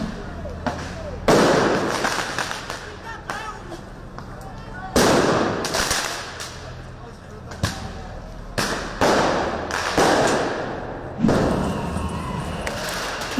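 Fireworks are set off into the air at a street protest, with repeated loud booming bursts and crackles spread through the stretch, some near and some farther off, amid crowd noise and voices.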